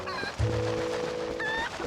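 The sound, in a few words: chicken clucking in a Zelda Twilight Princess video game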